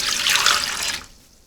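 Water poured from a cup into a bread machine pan, a steady bright splashing pour for about a second that cuts off and leaves a faint trickle, close and alone with no voices.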